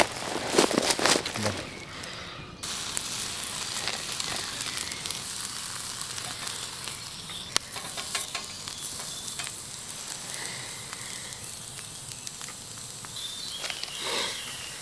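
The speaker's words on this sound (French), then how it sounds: "Le steak va cuire tranquillement, il va décongeler tranquillement." A thawing steak sizzles steadily beside a campfire outdoors, a continuous crackling hiss close by with faint insect-like chirps in the background and no talking.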